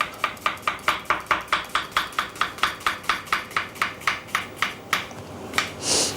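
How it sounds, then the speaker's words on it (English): Sharp kitchen knife finely chopping an onion on a board, a fast steady run of about twenty crisp knocks close by, then a pause and a few slower cuts and a brief scrape. "Now we're going to finely chop our onion"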